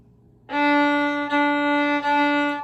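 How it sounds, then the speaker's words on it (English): A double bass bowed on the open D string sounds three times in a row, each note long and sustained with a rich, buzzing tone, played alone after a quiet start. "let's play open D"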